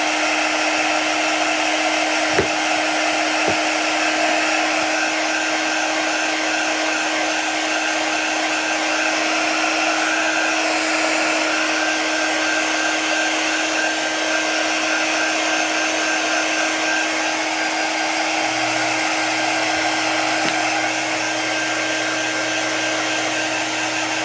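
A hair dryer blows hot air over chalk paste on a craft piece, a steady close whoosh running unbroken the whole time with a couple of faint clicks early on.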